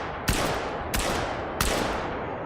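A 10 gauge shotgun loaded with slugs fires three heavy, booming blasts at even intervals, each with a long ringing tail, close and loud.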